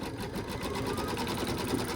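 An embroidery machine stitches an in-the-hoop monkey bib, its needle running in a steady, rapid mechanical rhythm close by and continuing without a break for the whole stretch.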